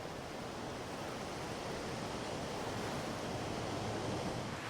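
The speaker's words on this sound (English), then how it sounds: "Waves lash the northern coast of the island." Rough sea whipped up by a force 6 to 7 mistral wind crashes against the rocky northern coast of a volcanic Italian island, a steady, dense roar of surf that never lets up.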